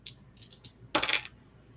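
Dice rolled in the E.T. Light Years from Home board game, a few quick light clicks followed by a brief rattling tumble that stops, close and quiet with no talking.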